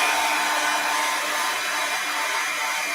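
A hair dryer blows steadily and loudly throughout, drying a handmade craft project with a constant airy whoosh and no talking.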